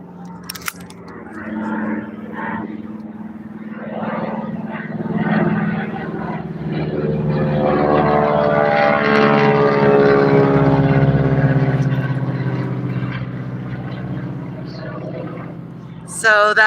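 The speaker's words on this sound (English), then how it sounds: "So that's what's been flying around. That I couldn't figure out the noise. That's a crop duster." A crop duster airplane passes overhead, its propeller drone swelling from a distant hum to a loud, steady roar before easing off, with faint voices in the background.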